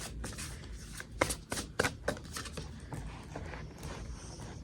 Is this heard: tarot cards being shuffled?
yes